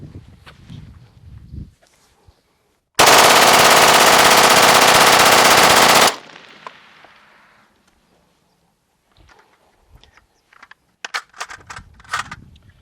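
An automatic gun fires 50 rounds of 5.7 ammunition in one sustained loud burst lasting about three seconds, followed by faint clicks and handling sounds.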